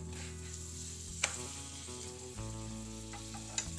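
Methi paratha sizzles on a hot pan as butter is applied, a steady close frying hiss with a few sharp clicks from the spatula and no talking.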